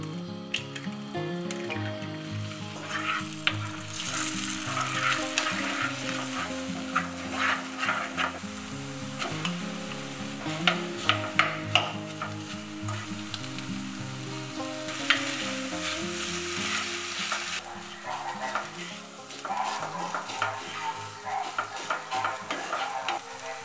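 Frozen rice and egg sizzle and fry in perilla oil in a pan, with steady crackling and repeated scraping stir sounds from a utensil, alone without talk.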